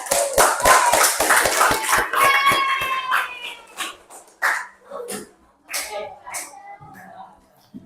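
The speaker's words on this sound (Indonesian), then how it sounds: "Kasih aplaus buat kelompok 2." A classroom group claps for the second group: a quick burst of lively applause over the first few seconds, and then voices and chatter take over as the clapping fades.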